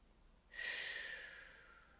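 A single deep breath, drawn or released through the nose with a soft rushing hiss that starts suddenly and slowly fades, close and quiet against a silent background.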